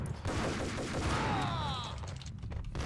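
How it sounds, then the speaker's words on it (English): Dense, sustained gunfire from the Max Payne video game with a Colt Commando, a loud continuous burst in a disco setting with whistling ricochet-like tones layered over the shots. "Who's shooting at me?"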